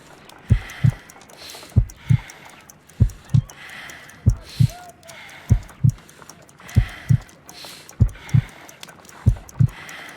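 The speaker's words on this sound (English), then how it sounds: "I need to concentrate and count the heartbeats." A slow heartbeat from a Sherlock Holmes video game thumps in evenly spaced double beats, close and prominent, about ten pairs over a soft background hum.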